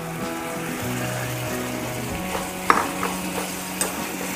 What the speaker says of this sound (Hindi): तो अब हम इसमें डाल देंगे अपनी अरबी